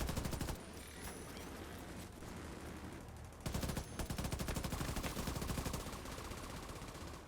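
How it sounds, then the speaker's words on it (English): A turret in the video game The Division 2 fires rapid automatic bursts, a dense continuous rattle of shots that pauses briefly and then resumes, loud and steady, with no talking. "I think my turret is actually... it's shooting at something."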